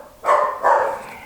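Two quick, loud barks from a nearby dog, close together and clear against a quiet background, with no speech.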